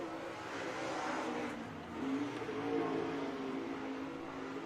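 Late model race cars in a Lucas Oil event at Farmer City, engines droning at a distance with a swell around the middle as a car passes, then a steady roar.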